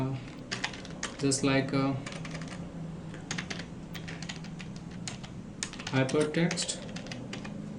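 Computer keyboard keys clatter in quick bursts while HTML code is written, with rapid clicks in clusters and pauses, as someone talks over the typing.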